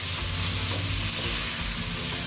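Rice frying in a pan gives a steady, close sizzle with a faint stirring scrape underneath, continuous and fairly loud throughout.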